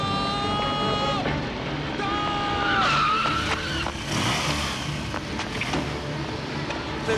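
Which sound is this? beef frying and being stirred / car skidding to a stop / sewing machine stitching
car skidding to a stop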